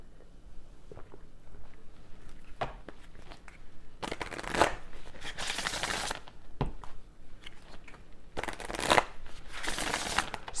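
Tarot cards being shuffled for a reading, with soft riffling bursts of card noise that swell and fade in two longer rounds, broken by quieter taps and handling between them.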